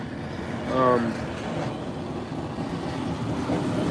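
A graffiti-covered freight train rolls past nearby with a steady rumbling clatter of wagons on the rails, and a short tonal squeal rises early on.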